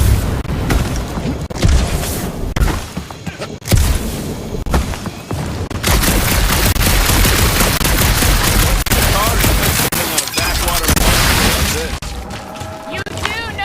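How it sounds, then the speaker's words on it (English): Repeated gunfire bursts and booming shots in the Marvel's Guardians of the Galaxy video game, loud and dense over a dark alien planet setting, with clustered volleys, brief pauses, and in-game voices talking over parts. "You do know that aimless shooting isn't gonna scare the monsters away, right?"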